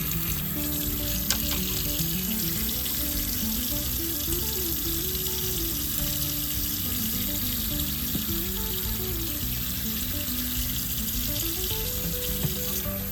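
Butchered meat rabbit rinsed under a running tap at a sink: a steady, close rush of water that flows without a break for over ten seconds, with no voices.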